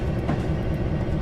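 Amtrak train 58, the City of New Orleans, rolls past in the Railworks train simulator game as a steady close rumble of rail wagons with no breaks.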